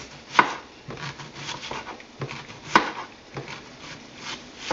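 A knife chops purple onion on a board in uneven strokes, with two louder thuds among softer cuts and scrapes, close and alone.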